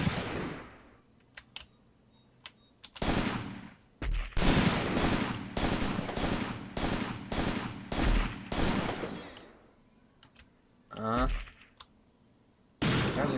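Rapid rattling gunfire in the World War II tactics game Graviteam Tactics at Shilovo 1942, a long burst of about ten sharp evenly spaced shots with scattered single cracks before and after, loud and close.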